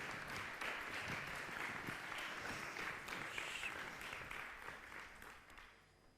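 An audience applauding to welcome a speaker onto the stage, sustained dense clapping at steady volume that tapers off toward the end.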